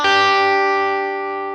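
Distorted electric guitar plays a blues lick with a bend: one loud, fuzzy, sustained note rolled across a barred fret that slowly fades, solo and close.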